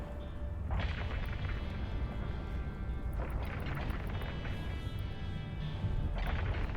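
Autocannons firing in the space combat game Eve Online, a dense continuous barrage of heavy booming shots with loud bursts of impacts, steady and close throughout.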